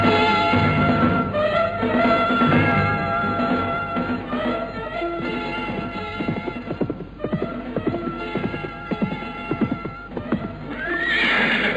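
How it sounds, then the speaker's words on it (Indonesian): A ridden horse comes on with clip-clopping hooves and several loud, shrill whinnies, the hoofbeats and neighs filling the whole stretch, ending on one more sharp neigh. "nampak dari kejauhan seorang penunggang kuda yang mengendarai kudanya makin lama makin dekat"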